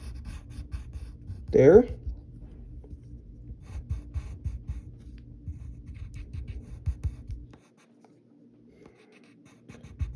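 Pencil scratching on paper while sketching a cartoon character's foot with one toe, a steady soft scraping with a sharper stroke near the start, heard under a person talking, then falling quiet near the end.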